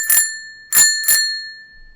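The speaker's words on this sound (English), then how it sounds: "So I'm going to ring the bell." A bell rung live in a podcast studio gives three bright, clear rings, each with a long sustained tone that fades slowly, the last two struck close together.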